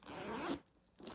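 A zipper on the pouch of a faux croc purse slides open in one smooth, close rasp lasting about half a second, followed by a few faint clicks and rustles.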